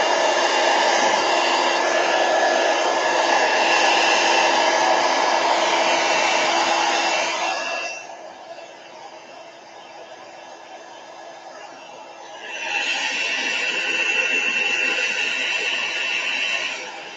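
A hair dryer blows steadily to dry tissue paper art, loud and close. The roar drops to a softer setting for a few seconds, then comes back at full strength.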